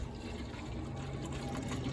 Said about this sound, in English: We're going to pour enough in here for both condensing units.